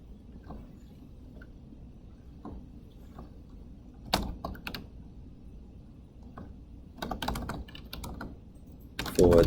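Computer keyboard typing in scattered bursts of clicks, sparse at first and then denser runs of keystrokes, close and fairly quiet, ending in a louder clatter.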